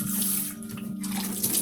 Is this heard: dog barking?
no